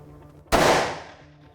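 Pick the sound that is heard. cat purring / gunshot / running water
gunshot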